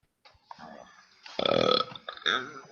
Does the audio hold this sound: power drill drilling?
no